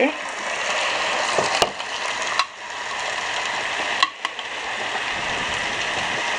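Pork chops marinated in Peruvian seasonings hit hot olive oil in a pan, a loud steady sizzle and crackle with a few sharp clatters of handling and brief soft speech underneath.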